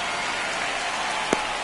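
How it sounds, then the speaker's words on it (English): Heavy rain pours steadily during a baseball game, a dense continuous hiss with a brief thump near the end and no talking. "This rain is not letting up."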